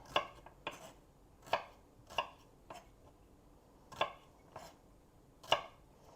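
A knife chops cucumbers on a cutting board in slow irregular strokes, about eight distinct close thuds spaced across a quiet kitchen, with no voices.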